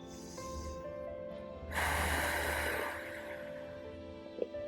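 Deep breathing during a yoga session done in bed: a soft, breathy exhale swells and fades, then a louder, hissing breath follows, close and alone.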